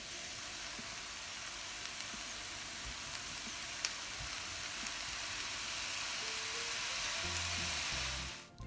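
Vegetable fried rice sizzles steadily in a hot pan as it is stirred and mixed, a continuous close frying hiss with small scraping clicks from the utensil, growing slightly louder toward the end.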